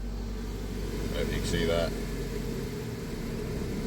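A Nissan Juke engine hums steadily at a low idle-like drone while the car strains forward against its applied handbrake, with a brief squeal midway and someone speaking over it.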